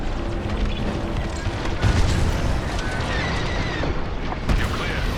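A large starship core blows apart in a Star Wars: Squadrons space battle: a loud, heavy boom that swells into a long rolling rumble, with a second deep thud near the end.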